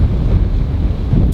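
Wind blowing across an open golf course, a steady low rumbling buffet against the microphone, loud and close, with no other sounds.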